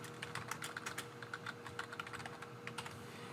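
Quick, light keystrokes on a computer keyboard patter in an uneven run of about twenty taps, close and fairly quiet in a still room.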